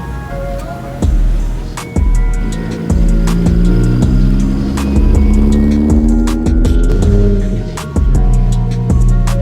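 Engines at a car meet, loud and close, with a steady growl, rising revs and repeated sharp pulses, rough engine tones shifting throughout, no talking.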